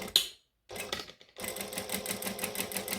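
A sewing machine runs in short bursts, stitching a seam on a Snap Dragon by KM Designs project. A brief run and a pause come first, then a steady, close mechanical whir with no talking.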